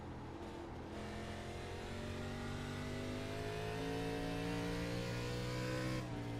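Race car engines drone loudly and continuously on the North Wilkesboro track in an ARCA series racing video game, pitches rising and overlapping as cars accelerate, with no talk.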